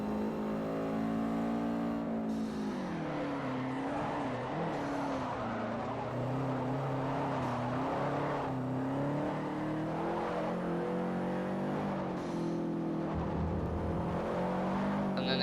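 Race cars in Forza Motorsport 4 roar continuously, their engine pitch rising and falling as they rev and shift, with occasional tire squeal under a loud, dense mix that never lets up.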